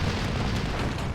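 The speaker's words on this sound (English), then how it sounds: "I'm going to be coming in for a strafing run onto these OBs" A Messerschmitt ME-109 E4 fighter with wing cannons strafing ground targets in the World War II strategy game Steel Division 2: a dense, continuous roar of gunfire and rumbling explosions, loud and unbroken throughout.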